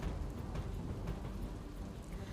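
Heavy rain pours onto waterlogged city streets in Ahmedabad, a dense, continuous roar of drops with deep rumbling underneath, steady and loud throughout the short stretch.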